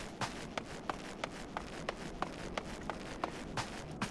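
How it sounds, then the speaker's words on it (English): Steady footfalls plod along at an even pace in Final Fantasy XIV, about three steps per second, close and clear against a hushed ambient background with no music or talk. "sound of our footsteps plodding along"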